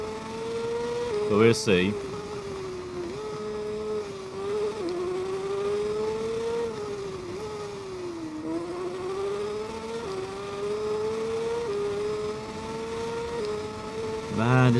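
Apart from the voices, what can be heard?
motorcycle engine racing in video game TT Isle of Man 2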